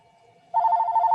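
Landline telephone ringing, a faint steady tone that suddenly jumps into a loud, rapid warbling electronic ring nearby.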